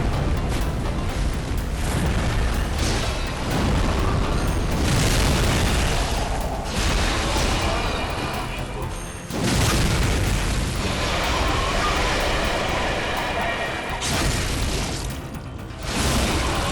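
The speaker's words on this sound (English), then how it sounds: "I popped a lead elixir and chained non-stop booms to delete Ebrietas in 7 hits" Boom hammer explosions pound Ebrietas in Bloodborne, a continuous roar of heavy booming blasts with brief dips between strikes, loud and dense throughout.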